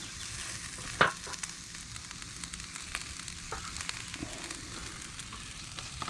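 Vegetables frying on a Blackstone griddle at a campsite, a steady close sizzle with one sharp clink early and faint scraping taps, no talking.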